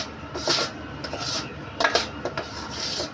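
A spoon scrapes and rubs through a thick espasol mixture in a pan, in several short irregular strokes, close and moderately loud.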